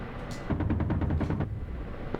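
A quick run of rifle shots from the DCS combat game cracks out in a tight cluster of about half a dozen reports, set against a steady, noisy background hum with one more isolated shot near the end.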